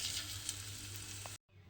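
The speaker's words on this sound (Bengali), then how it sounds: "এই তেলের মধ্যে এইভাবে অল্প অল্প করে দিয়ে আর যেগুলো আছে সমস্তগুলো কিন্তু একইভাবে ভেজে নেব" Chital fish snacks frying in oil, a steady close hiss of bubbling that cuts out abruptly near the end before faintly resuming.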